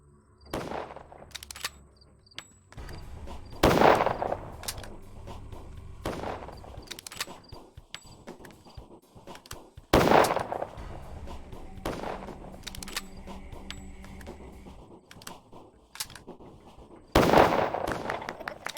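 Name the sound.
rifle shots in the video game Pathologic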